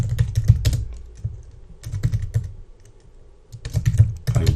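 Computer keyboard typing, close and crisp, with quick irregular bursts of keystrokes that pause briefly around the middle and then pick back up. No voice is heard.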